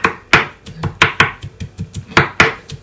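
Garlic being chopped with a knife on a cutting board: a quick, irregular series of crisp, close knocks, some heavier than others, with no voices.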